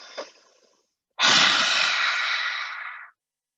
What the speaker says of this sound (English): Inhale fully.